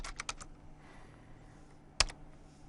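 Keys clatter on a computer keyboard while a file name is typed: a quick run of about five close clicks, a pause, then one sharper keystroke in a quiet room.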